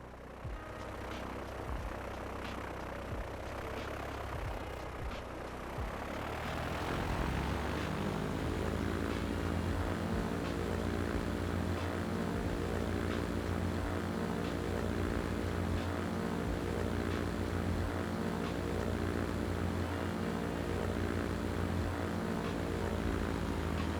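Propeller airplane on a test flight takeoff in Transport Fever 2, a steady droning engine that rises and settles into a loud, even harmonic hum as it powers up and climbs, with no talking.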